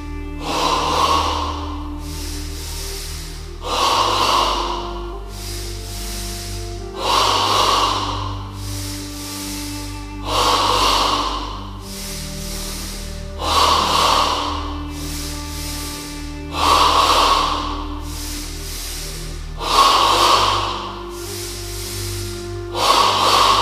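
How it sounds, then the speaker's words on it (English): Rhythmic forceful yoga breathing in two stages, air drawn from the abdomen up into the chest, repeating in steady cycles of sharp audible inhales and exhales roughly every three seconds, close and clear with no talking. "Now in stage 2 of double breathing, the breath moves from the abdomen to the chest"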